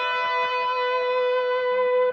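An electric guitar rings out a single sustained B note, bright and even with harmonics and an effects-laden tone, held steadily before cutting off at the end.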